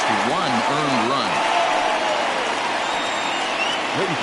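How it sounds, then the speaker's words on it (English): Home crowd at a baseball game in Portland giving a departing pitcher a sustained ovation, dense steady applause and cheering throughout, with a voice talking over it at the start and briefly near the end. "So he receives a nice ovation from this home crowd"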